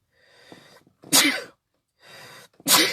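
Two sneezes from a person just out of the shower, each a soft inhaled lead-in followed by a sharp, loud burst, close and alone with no talk.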